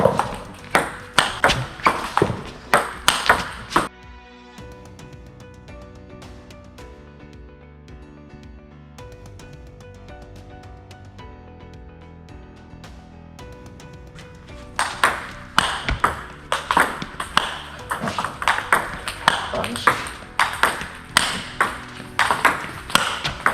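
A table tennis ball is struck repeatedly with side spin in a topspin demonstration: quick, sharp, close clicks in a steady rally at the start, a quieter stretch with soft music, then another run of crisp hits.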